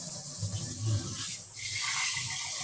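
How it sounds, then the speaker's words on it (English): Shower water running in a home bathroom, a steady broadband hiss of spray that holds evenly throughout, with some low rumbling underneath and no talk. "I'm going to turn on the shower."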